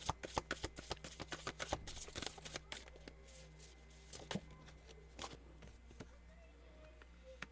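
Tarot cards being shuffled and drawn, a run of quick crisp riffling snaps up close, followed by softer scattered card slides and taps, with quiet room noise behind.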